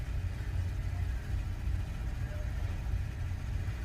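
Steady low engine rumble of vehicles idling and moving around a small truck stop, continuous and moderately close, with faint voices mixed in.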